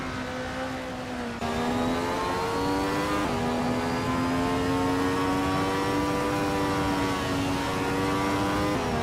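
A classic 1975 Ferrari 312 and other race cars roar in a racing video game, a loud sustained engine whine with sharp gear-change jumps in pitch, running continuously without talk.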